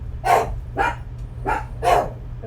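Two pet dogs bark indoors at brunch time, four loud separate barks spaced about half a second apart over a low steady hum, with no talking.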